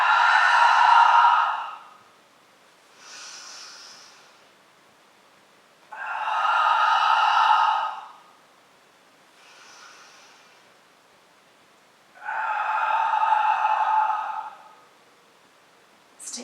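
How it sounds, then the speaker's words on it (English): Three deep, audible breaths taken during a yoga flow in a comfortable seated posture. Each long, airy inhale-exhale lasts about two seconds, with softer breathing in the pauses between, close and clear with no talking. "Let's take 3 breaths together."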